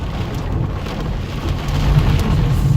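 Heavy rain pours steadily in a massive storm, with a low rumble of thunder swelling under the dense hiss of the downpour and building louder toward the end.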